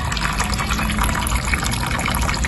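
Water streaming out of holes in the side of a water column, a loud, steady gushing splash with no pauses from start to finish.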